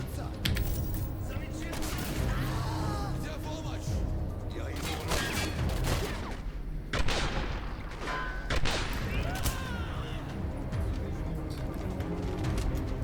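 Gunfire in the shooter video game Singularity comes in steady, repeated bursts and dense clatter that blend with game noise throughout, while someone talks over the action.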